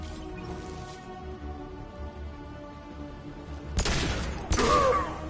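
A concussive shot ability fired in the Mass Effect game, two loud percussive blasts near the end over a low droning ambience, after an earlier faint burst.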